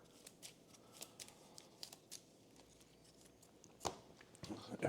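A deck of board game cards shuffled close by, with quiet riffling and tapping bursts that build to louder shuffles near the end, while voices murmur faintly in the background.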